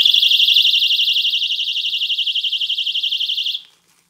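A loud electronic buzzer sounds in one continuous warbling tone for about three and a half seconds, then cuts off abruptly, heard alone with no talk.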